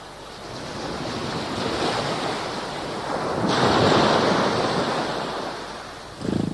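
Open sea ambience with rolling waves and gusting wind, a continuous surf wash that swells louder midway, then eases, ending with a brief knock.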